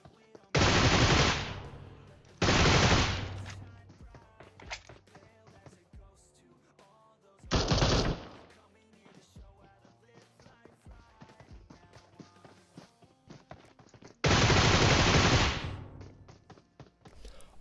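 Bursts of automatic gunfire in a PUBG Mobile match between two teams, several long loud volleys separated by quieter stretches of scattered game sounds and lighter shots.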